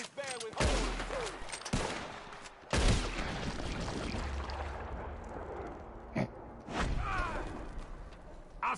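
Gunfire in Red Dead Redemption 2 comes as loud, sharp rifle and pistol shots scattered irregularly through a tense outdoor scene. Rumbling noise runs between the shots and voices shout briefly.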